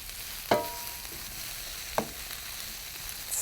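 Vegetables sizzle softly in a frittata pan under a steady low frying hiss, with two sharp scraping stirs about a second and a half apart and no voices.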